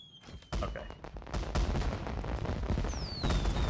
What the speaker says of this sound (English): Fireworks.